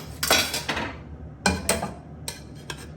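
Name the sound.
asparagus being spread over a plate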